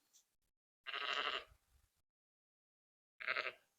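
A first-time ewe about to lamb bleats twice on a farm, one long loud call followed by a shorter one after a pause, close to the listener.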